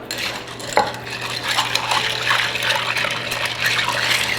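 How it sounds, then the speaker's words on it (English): A Rob Roy of whisky, sweet vermouth and bitters is stirred with ice in a glass mixing glass, giving a steady soft swirl and rattle with faint clinks of ice against glass throughout. "You want to stir until the glass gets frosty."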